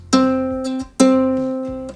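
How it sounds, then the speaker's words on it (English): Two plucked notes on a ukulele's low C string, each ringing clearly and fading over about a second, played alone and close. "The C string is the lowest string on the ukulele, and it sounds like this."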